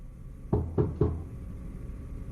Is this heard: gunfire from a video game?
no